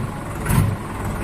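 Close, steady running of a New Holland 3630 Super Plus tractor engine in neutral, a loud, dense rumble that swells briefly in the middle and then settles back.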